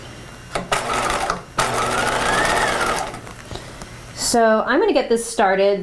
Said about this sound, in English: I'm going to start sewing at the waistline on this side.